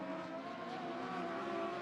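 Dwarf cars racing at Sunset Speedway Park, a steady distant roar of several engines droning together in a pack, fairly faint and continuous.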